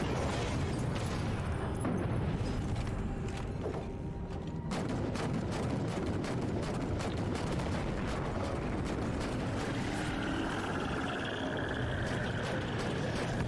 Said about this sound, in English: It looks like the grenade's just lifting up this whole room.